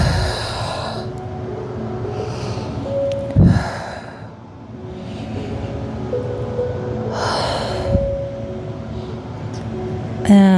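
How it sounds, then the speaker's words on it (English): A person breathes deeply during a stretching class, drawing air in through the nose and letting it out through the mouth. Several slow, loud, airy breaths come close to the microphone in a steady rhythm, with a low background hum. "Breathing in the nose,"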